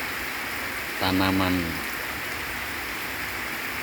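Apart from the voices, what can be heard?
rain falling on oil palm seedlings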